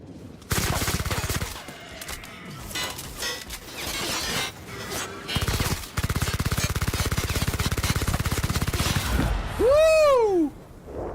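Turret gunfire in the game The Outer Worlds: dense, sustained automatic shots with shattering crashes for about nine seconds, then a loud sweeping electronic tone near the end.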